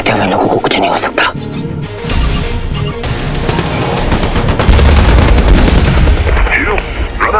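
Fighter ships in an animated space battle unleash rapid gunfire and blasts, dense overlapping bursts and booms filling the clip loudly, with voices mixed in among the shooting.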